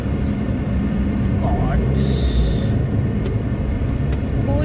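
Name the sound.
road traffic on a main road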